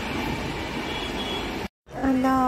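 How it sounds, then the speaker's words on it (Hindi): A passing train rumbles steadily and loudly, then cuts off briefly before a voice and a tonal squeal follow. "और वो जा रही है ट्रेन।"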